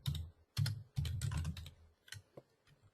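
Quick bursts of computer keyboard typing as a message is entered, with clustered keystrokes, brief pauses between runs, and a few lighter isolated taps near the end, close and fairly quiet.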